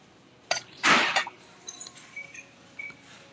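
Glass prisms clinking as they are handled in an antique shop, with a bright jangle up front, then scattered light tinkling taps that fade off.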